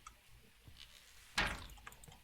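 A door in the horror game Deathwatchers slams shut with one sudden, heavy thud that seems to come from downstairs, standing out against a low, murky ambient drone.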